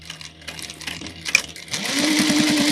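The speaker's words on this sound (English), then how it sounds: "So we're going to sew, and I want you to make sure you back stitch well" A sewing machine stitches across the flap of a clutch wallet, first with slow, uneven needle strokes and then a steady, rapid, close-up run of motor hum and needle clatter that speeds up near the end.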